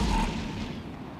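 Large cannons fire in the EVE Echoes space game, a heavy, deep boom that opens loud and then fades into a long rumbling decay, with no voices over it.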